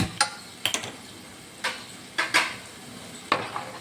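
Stirring dal tempering in oil in a pot: a handful of sharp clicks and scrapes of a spoon against metal, spaced irregularly over a quiet sizzling background.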